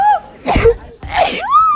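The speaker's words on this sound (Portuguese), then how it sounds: "Essa garota aqui decidiu até fazer uma seleção de espirros." A girl sneezes twice in quick succession, each sneeze a loud, close burst preceded by a sharp breathy intake.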